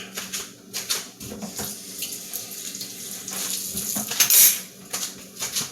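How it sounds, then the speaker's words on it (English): Egg and liquid cookie ingredients being mixed in a bowl for chocolate chip, walnut and date cookies, with busy clattering and scraping of a utensil against the bowl under a watery, running background. "So I'm mixing the liquid ingredients together first"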